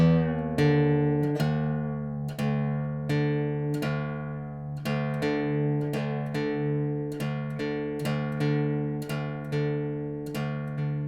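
A guitar's low string is plucked repeatedly, each note ringing and decaying, about a dozen steady plucks at an even pace as the string is tuned down from E to D by ear. The pitch glides slightly between notes, and no voice is heard.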